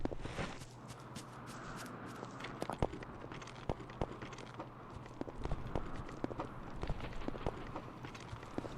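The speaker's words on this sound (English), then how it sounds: "You can hear your footsteps being really janky over the rocks" Clomping footsteps crossing shifting rocks in the video game Miasmata, a steady run of uneven, clattering steps with scattered sharp knocks over constant ambient noise, no talking.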